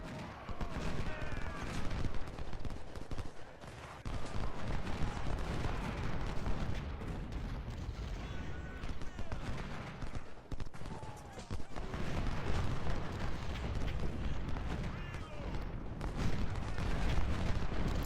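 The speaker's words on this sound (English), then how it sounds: "Oh, they're shooting at Anderson." Musket volleys and artillery from the Civil War strategy game Ultimate General rumble on continuously in a dense, crackling, booming battle din, with a voice talking over the gunfire throughout.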